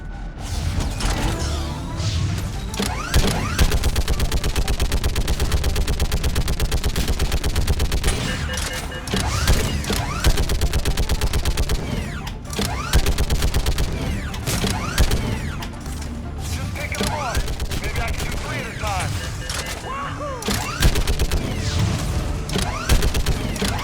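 Turret gunfire in the video game Mass Effect 3, sustained rapid mechanical bursts with booming impacts and crashes, loud and dense throughout with only brief dips.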